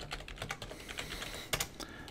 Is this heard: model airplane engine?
no